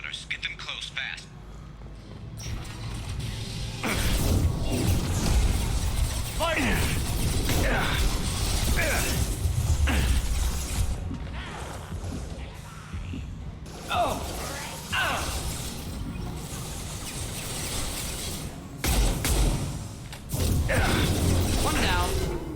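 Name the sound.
metal shutter mechanism closing in the video game Mass Effect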